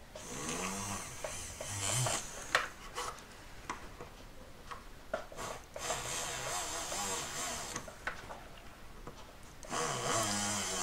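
A small drill boring a hole in a three-stone ring, a buzzing, whirring grind in uneven bursts and pauses, close and moderately loud, with no talk over it.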